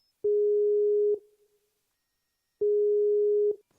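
A telephone ringback heard while calling someone, two long steady electronic tones about a second each separated by a gap of silence, loud and clean with no voices.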